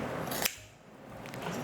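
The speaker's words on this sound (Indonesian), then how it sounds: "Nih, pakai gunting." Kitchen scissors snip through a whole raw chicken, a crisp loud crunching cut followed by quieter handling noise.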